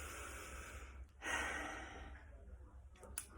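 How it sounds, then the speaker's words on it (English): A single deep breath drawn in and slowly let out, close and soft, with a fuller rush of air in the middle and no talking. "And just take a breath."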